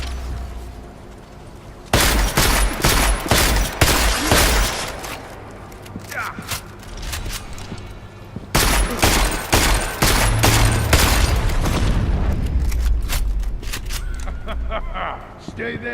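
Bursts of gunfire from the video game Deus Ex: Mankind Divided come in two heavy volleys of rapid, loud shots with booming low end, separated by a quieter stretch.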